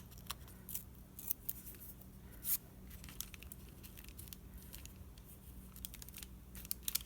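Paper scraps torn by hand for a journaling card project, quiet short ripping strokes and soft crinkles over a faint steady background hum.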